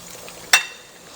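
A bone-in pork chop drops into a pot of hot frying oil, giving one sharp burst of sizzle partway through that settles into a quieter, steady bubbling hiss.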